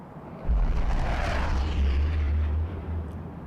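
A fighter aircraft engine in the video game Ace Combat: Assault Horizon Legacy roars as a steady, low, heavy drone, swelling briefly and holding throughout.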